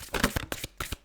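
Tarot cards are shuffled and drawn in a quick run of crisp, close riffling bursts, short and uneven in rhythm, with no voices.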